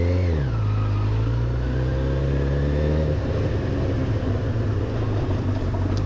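A Honda CB1000R motorcycle engine on a ride through Edinburgh, loud and close, its revs sliding down then holding a steady harmonic drone before roughening into a throaty, uneven rumble under acceleration.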